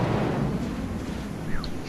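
Cutlass spaceship in Star Citizen slamming into the ground with an engine full-speed bug, a loud sustained roaring rumble with a brief whooshing sweep near the end.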